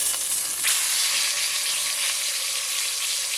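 Meat for pot roast sears in a hot pan, a loud continuous sizzle and crackle of fat close up, steady throughout with no talking.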